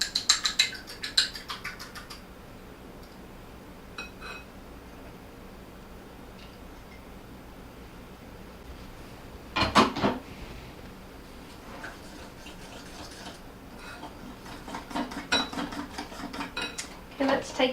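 A whisk or spoon works egg and milk together in a bowl for onion ring batter: a burst of clinking at the start, then soft intermittent scraping, with louder taps near the middle and toward the end.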